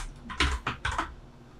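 Keys clack in a short burst of three quick clusters on a computer keyboard as a username and password are entered during router setup, fairly close and alone over a low background hum.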